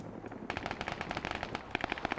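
Rapid automatic gunfire rattles in a military video game PvP battle, with dense repeated shots in a fast, slightly uneven rhythm, close and sustained.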